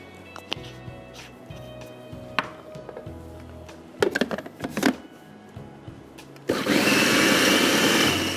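Electric grinder chopping fresh coriander with garam masala and allspice powder for kebab filling, preceded by scattered knocks and clatter, then a loud continuous motor whirr starting near the end.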